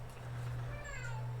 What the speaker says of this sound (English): Shut up, cat.